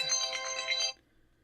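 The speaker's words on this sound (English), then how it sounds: "A fucking phone call from the wife?" A phone ringtone sounding an incoming call, a bright chiming pattern that plays for about a second, then cuts off into near silence.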